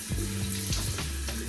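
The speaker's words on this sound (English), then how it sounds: "So I'll just run it under warm water and just kind of wring it out like that." Warm tap water runs steadily over a shaving brush being rinsed and wrung out, a close continuous splashing stream with a few soft gurgles and drips.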